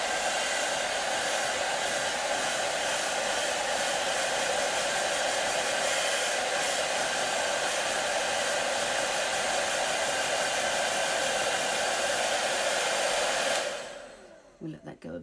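A hair dryer blows steadily and loudly on makeup freshly applied to a face, a constant whooshing roar that runs for about fourteen seconds before switching off.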